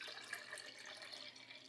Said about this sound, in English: pour some delicious fresh milk into it